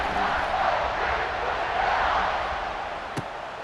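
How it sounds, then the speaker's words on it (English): Stadium crowd at a college football game between Ball State and Ohio State, a steady loud roar of many voices buzzing after a score, continuous throughout with one brief sharp knock near the end. "this crowd is buzzing after that last score"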